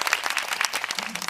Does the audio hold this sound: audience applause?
yes